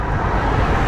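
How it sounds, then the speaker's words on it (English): A car passes on a main road in Kenya in a loud, close, broadband whoosh of engine and tire noise that holds steady, with no voices over it. "Let me let this car go past."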